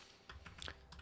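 Keys clatter on a computer keyboard, a quick burst of several close, light clicks with no voices over them.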